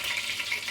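Onions sizzle and fry in a little oil in a pan for kale or collard greens, a steady bright hiss close up with no talk.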